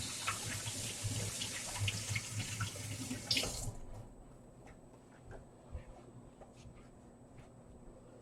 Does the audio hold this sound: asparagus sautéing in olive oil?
no